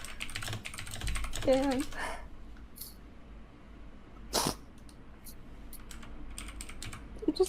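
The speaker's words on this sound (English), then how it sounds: "The typing is really distracting." Computer keyboard typing comes as scattered sharp clicks and a louder clack, light and close. A person talks at the start and a few faint vocal sounds appear near the end.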